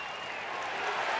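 Crowd at Rangers Ballpark in Arlington cheering a called strike three on Mathis in an Angels–Rangers baseball game, a steady broad roar with applause building slightly toward the end.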